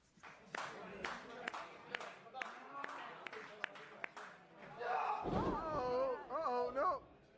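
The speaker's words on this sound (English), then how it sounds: "I've got a 45-second clip I'm going to play that I took from the crowd" Live wrestling crowd in an Atlantic City arena, captured from the stands: scattered claps and sharp slams ring out, then a loud mass of cheering and shouting voices swells toward the end.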